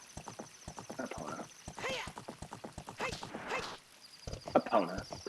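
Epona, the horse in Ocarina of Time, gallops with a steady run of clip-clop hoofbeats and a brief whinny, set under a game soundtrack while a person talks over it.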